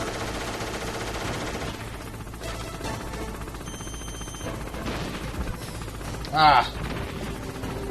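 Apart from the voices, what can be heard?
gunfire from a gun in the video game Metal Gear Solid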